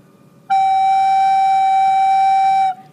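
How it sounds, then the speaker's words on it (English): A single sustained F sharp played on a recorder-type wind instrument, a clean steady whistle-like tone held for about two seconds, loud and alone, with no talking. "show you where the F sharp was, because that's the new note"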